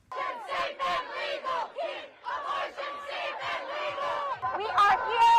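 Crowd of thousands at an abortion rights protest shouting together in loud, sustained chants, a dense wall of voices rising and falling in waves with a sharp swell near the end.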